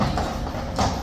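Hooves of Blues and Royals cavalry horses clip-clop steadily on hard ground at Horse Guards, a dense, close rhythm of overlapping strikes with a louder burst near the end.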